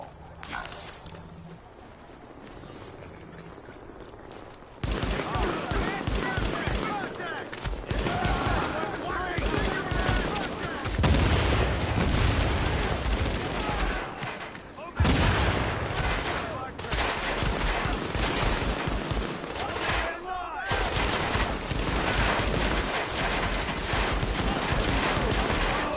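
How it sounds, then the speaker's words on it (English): Rifle gunfire in the video game Tom Clancy's The Division, dense rapid bursts of shots and crackling impacts running almost nonstop after a quieter start, loud and busy with brief gaps between volleys. "That's a lot of rifles."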